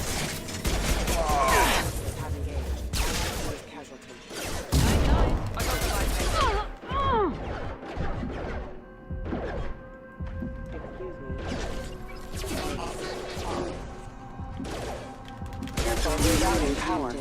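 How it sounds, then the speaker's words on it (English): Firefight gunfire in Mass Effect 2 rings out in repeated bursts and crashing impacts across the stretch, mixed with game effects and voices talking over the action. "Shoot them before they take out your shield."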